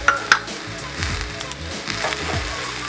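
Egg and mixed vegetables sizzle and fry steadily in a pan, a continuous crackling hiss with a couple of sharp clinks near the start.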